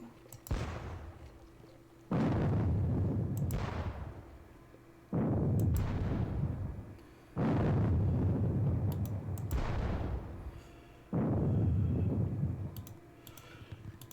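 Artillery fire in a Napoleonic-era war video game set at the Battle of Friedland: four or five heavy booming volleys, each a loud rumbling blast with a long fading tail, spaced a couple of seconds apart with faint clicks between.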